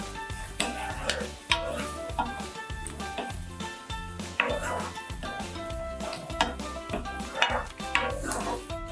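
Green chillies and vegetables for veg manchurian frying in a pan, stirred with a metal spoon that clinks and scrapes against the pan in repeated strokes over a soft sizzle.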